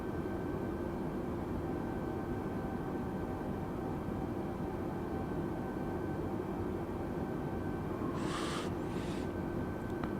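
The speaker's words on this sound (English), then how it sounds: "Cessna 172 isn't the easiest plane to fly" Steady, even drone of a Cessna 172 in flight at night, engine and airframe noise filling the whole span without a break, with a brief faint higher swish near the end.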